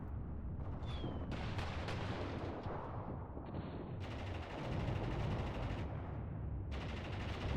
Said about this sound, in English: Tanks are engaging though